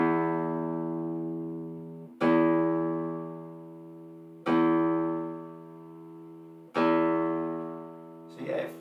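The low E string of a guitar is plucked for tuning, four separate clear notes each left to ring and fade slowly, close and alone.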